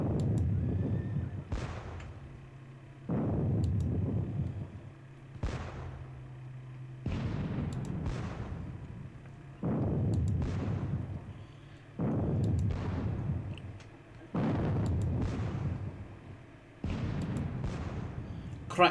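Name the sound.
12-pounder cannon artillery fire in Battle of Bautzen wargame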